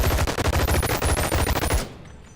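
Rapid gunfire from guns in the Boneworks VR video game, a loud fast string of sharp shots in quick rhythm that stops abruptly, leaving a short fading tail.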